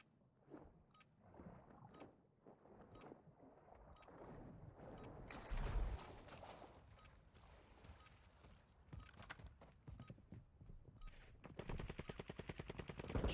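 Video game gunfire in a multiplayer war-zone match: bursts of shots and rapid automatic fire break out through the middle and build into a dense, loud volley at the end, with scattered game sounds between.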